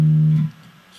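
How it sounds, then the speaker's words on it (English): A quick bass guitar fill on the 5th fret of the D string, from a bass line: one sustained low note that rings briefly, then cuts off into near silence. "Then I do a quick little fill on the 5th fret of the D string"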